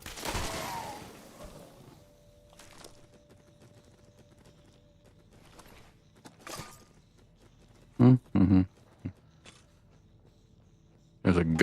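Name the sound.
tripwire-triggered gun firing, Fallout 76 video game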